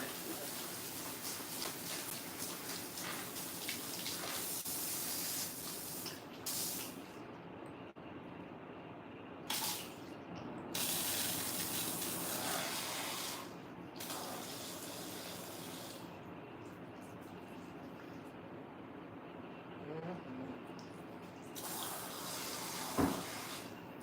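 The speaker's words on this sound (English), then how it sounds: "Sometimes y'all have to turn the water pressure down when you're rinsing and relaxing." Water runs hard from a tap during rinsing, a continuous broadband hiss that cuts off and restarts several times as the pressure is adjusted, fairly faint and with no talk.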